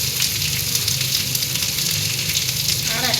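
Chilli, onion, garlic and ginger fry in hot oil for a mutton spice paste, producing a loud, steady, close crackling sizzle throughout with no pauses and no talking.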